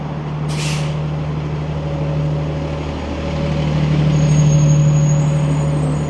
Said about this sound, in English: There's a 13 Avenue bus.